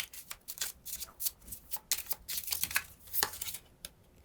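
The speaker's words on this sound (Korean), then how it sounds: "두 장을 뽑아 볼게요." Tarot cards being shuffled and drawn from the deck, a quiet run of soft, uneven riffling and snapping flicks, close and alone with no talking.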